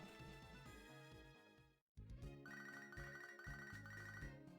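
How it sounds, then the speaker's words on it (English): An incoming phone call ringing in Pokémon Soul Silver, a looping chiptune ringtone melody with a brief silent break before it resumes, with game music around it. "Phone call that I have to field"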